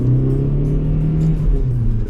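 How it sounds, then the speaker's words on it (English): Volkswagen Jetta TDI diesel wagon pulling away from a standstill in first gear, a loud, close engine drone with a rising low hum that holds steady as it accelerates, no talk. "since these cars are torquey, we'll see how it does pulling out in first"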